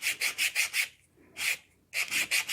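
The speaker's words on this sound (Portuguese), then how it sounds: "agora vem a lixa 180, né? 180 e vocês vão lixar dessa forma para dar o acabamento" Hand sanding of a wooden hot air balloon body with 180-grit sandpaper: rhythmic back-and-forth rasping strokes, close and crisp, five quick strokes, a pause, one stroke, then four more, with no talking.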